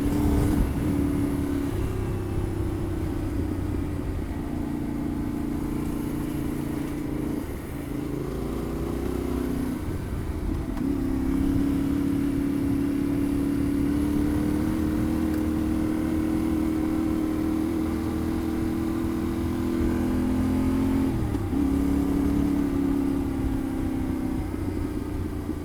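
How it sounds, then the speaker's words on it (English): Honda Africa Twin 1000 adventure motorcycle ridden on a dirt road, a steady loud engine drone with shifting revs, brief throttle dips and bumps across about 26 seconds of riding. "it's a big bike to be throwing around a dirt road like this"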